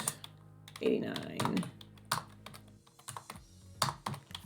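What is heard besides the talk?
typing numbers on a computer keyboard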